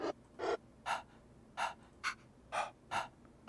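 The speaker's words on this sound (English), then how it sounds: "What is breath? Is it just somebody breathing?" A vocal breathing sample triggered from Ableton's built-in sampler instrument plays as a series of about seven sharp, breathy inhales and exhales, evenly spaced and clear, alone without talk.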